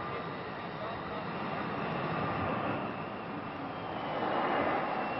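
Combat aircraft at Aviano air base roar with a steady, loud broadband engine rumble that swells slightly toward the end, a continuous jet noise with no clear breaks.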